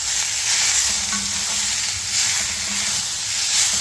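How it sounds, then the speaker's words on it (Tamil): Tomato chutney ingredients with tomato, coriander and salt stirred in a frying pan, a steady sizzling hiss with soft scraping strokes throughout, close and alone. "ஸோ நல்லா கிண்டி விட்டுடலாம்"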